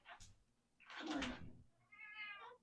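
A cat meows insistently to be let in, two or three drawn-out, nasal calls close by, with faint knocking or door sounds between them.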